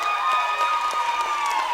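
A basketball crowd at a high school game between West Side and Soda rises to its feet with sustained applause and cheering, a dense steady roar of clapping heard at close range and without any talk.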